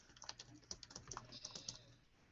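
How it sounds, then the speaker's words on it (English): Someone types on a computer keyboard during a game session, quick uneven bursts of key clicks close to the microphone, fairly quiet. "I hear typing."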